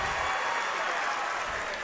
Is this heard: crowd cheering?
yes